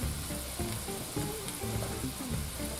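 Garlic fries in a pan with a steady, close, hissing sizzle, broken by a few faint scrapes of stirring, and no one speaks.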